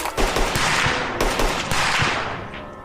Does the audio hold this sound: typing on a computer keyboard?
no